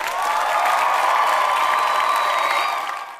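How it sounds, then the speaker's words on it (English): A crowd cheers and claps in one loud, sustained burst with a sharp onset, and a bright tonal whoop rides over the noise before it fades at the end. "Let's clap it up."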